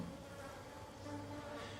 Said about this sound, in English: The bees seemed to find some reward on the stigmas, for they crawled all over them